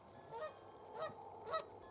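A goose honks three times at an even pace in a quiet outdoor farmyard, each call short and nasal, moderately close and alone with no voices.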